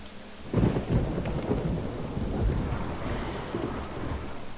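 Thunder rumbles through a rainstorm in the OpenRCT2 park game, a loud crack opening into a long, rolling boom over steady rain hiss that lasts the whole stretch.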